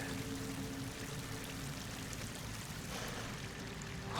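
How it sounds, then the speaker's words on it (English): Steady stream of water pouring in from the surface into a slick-walled pit in Horizon Forbidden West, a constant broadband rush with no gaps, fairly loud and close, swelling slightly at the very end. "Water's coming in. From the surface."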